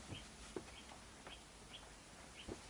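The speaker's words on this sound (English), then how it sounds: "What's that bird?" Short chirping calls from a bird outdoors, several brief high notes spaced out over a few seconds, faint and distant over a low background hum.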